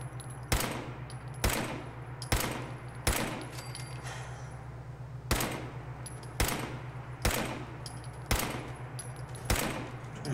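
Gunfire in Fallout 4: about ten sharp, loud shots fired singly at irregular intervals of roughly a second, each with a short bright crack, over a steady low hum of game ambience.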